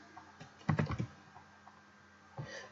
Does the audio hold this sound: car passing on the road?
no